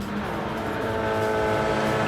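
Race cars rumble through a bend at night in a Gran Turismo World Series Nations Cup round, a steady layered engine drone holding level throughout with no break, at moderate loudness.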